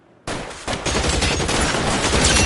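Dense burst of gunfire in the L.A. Noire game, loud and close, starting abruptly after a moment of quiet and continuing as an unbroken rattle of shots.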